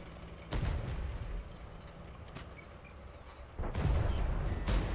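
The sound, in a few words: tank gun firing in the video game World of Tanks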